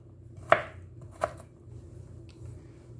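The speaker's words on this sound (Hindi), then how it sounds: "आप जितनी बारीक कर सकें अच्छी तरह से काट लें प्याज को" A knife strikes a board twice while finely chopping onion, two sharp, close taps under a faint background hum.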